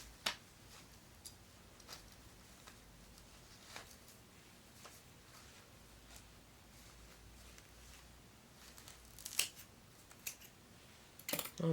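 Small scissors snip at excess hair tied onto a fly-tying hook, a few sharp isolated cuts scattered over quiet, with a quick cluster of snips near the end.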